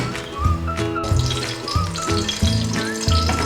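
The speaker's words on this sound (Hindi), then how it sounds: "अब इसको अच्छी तरह से हमने इस ऑयल के अंदर करना है फ्राई" Black peppercorns fry in hot oil in a pan with a steady crackling sizzle and low bubbling, close and continuous, with faint background tones and no talk.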